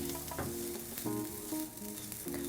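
Garlic and paprika frying in a pan for a mushroom stroganoff, a steady quiet sizzle with faint scrapes and stirring clatter through it.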